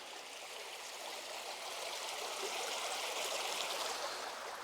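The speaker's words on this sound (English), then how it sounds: "I think the brook's just there." A brook flows steadily nearby during a countryside walk in South Yorkshire, its water making a continuous broadband rush and trickle at moderate level, with no talk.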